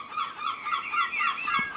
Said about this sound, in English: I don't quite know why you have to make that noise all the time, you seagulls